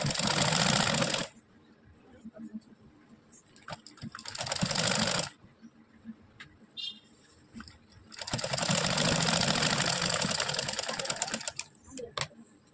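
A sewing machine stitches a fabric patti joint in quick bursts of rapid mechanical whirring, three runs separated by quieter pauses with light handling clicks, heard close up.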